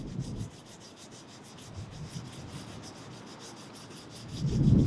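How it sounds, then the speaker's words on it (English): Old paint is scraped off a chimney in a steady rasping rub that keeps going through the clip. It stays fairly quiet and swells louder near the end. "I need to scrape the old paint off first"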